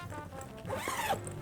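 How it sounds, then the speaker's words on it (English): A zipper being drawn along a compartment of a Samsonite Oc2lite suitcase, one steady rasping pull lasting about half a second, close and moderately loud. "over this section we have a zip"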